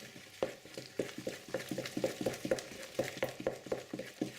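Gluten-free cannelé batter is whisked in a bowl, a quick run of soft, rhythmic wet taps and swishes, close and fairly quiet.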